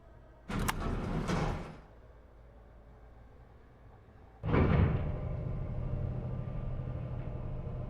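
A sliding door in the video game Robocop: Rogue City swishes open with a brief mechanical rush, then a second heavier slide follows and settles into a steady low rumbling hum.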